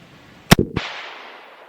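A single sharp crack from a .224 Valkyrie rifle at an outdoor range, a loud close report followed by a short decaying echo.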